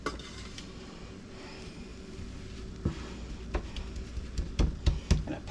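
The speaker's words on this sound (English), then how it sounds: "So I'm going to put half the mixture in the bottom of the pan." A no-bake chocolate oat bar mixture is spooned and scraped into a pan, with soft stirring at first, then a series of sharp clinks and knocks of a utensil against the pan growing louder toward the end.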